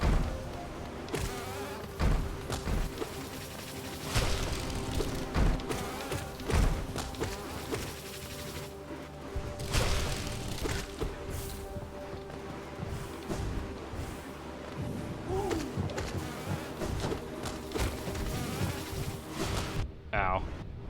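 Bees buzz through a video game scene in Empty Warrior, a steady insect drone running the whole stretch with scattered thumps and impacts layered over it.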